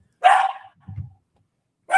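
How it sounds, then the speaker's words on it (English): A dog lets out a single sharp bark up close, followed by a low, brief grumble, then a second bark starting right at the end. "Is that the evil dog right there?"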